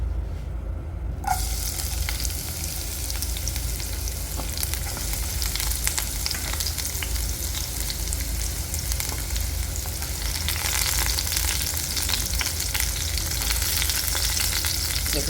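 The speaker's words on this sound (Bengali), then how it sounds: "এবার আমি যেটা দেবো সেটা হচ্ছে পেঁয়াজটাকে আগে ভালো করে ভেজে নেব" Sliced onions frying in hot oil for a rajma dish give off a steady, close broadband sizzle that runs the whole time, swelling slightly louder toward the end, with no talking.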